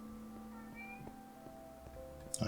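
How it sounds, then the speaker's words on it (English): A cat grumbles and meows faintly at a door, its low drawn-out calls under a steady electronic hum with a few soft clicks, ending in a short louder burst. "I can hear a cat grumbling at the door."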